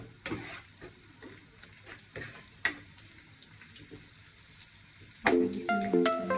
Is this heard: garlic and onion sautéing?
yes